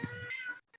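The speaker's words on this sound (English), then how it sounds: "Loud kitty cat." A cat lets out one loud, drawn-out meow close by, with a faint trailing sound as it ends, in a kitchen where dough is being kneaded.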